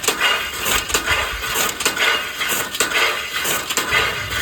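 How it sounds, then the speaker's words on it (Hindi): Fodder being chopped by hand in a village, a rapid run of crunching, splintering cuts repeating in an uneven rhythm, loud and close with no talk. "और यहाँ ये लोग चारा काट रहे हैं"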